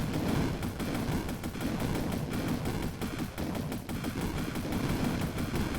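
Continuous rapid gunfire from shooting in the zombie driving game Road Z: The Last Drive, a dense, loud, unbroken stream of shots throughout with no talking.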